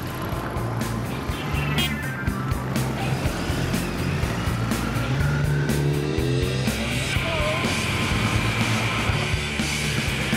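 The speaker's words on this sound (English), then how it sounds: "Over 170 bikes ride out towards York along the A19." A ride-out of over 170 motorbikes heading along the A19 towards York makes a steady, dense roar of many engines passing close by, continuous and loud throughout.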